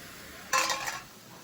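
A short scraping, clinking stir lasting about half a second as sweet ingredients are mixed with nutmeg and cardamom in a metal dish, close and moderately loud with no talk.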